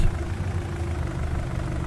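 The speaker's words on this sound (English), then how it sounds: "Or at least not up a hill. That's not good. Come on, tractor." Tractor engine in Farming Simulator 19 labouring uphill, a steady low, heavy drone holding at constant loudness throughout, close and alone without any talking.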